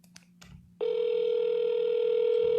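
Vulcan7 dialer software placing an outbound cold call: a steady dial tone starts suddenly after a brief quiet moment and holds loud and unbroken to the end, with a faint hum underneath.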